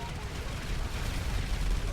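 Gunfire from the James Bond JB700 car's mounted guns in GTA V, a dense, rumbling barrage of continuous shots and blasts, loud and steady with speech mixed in.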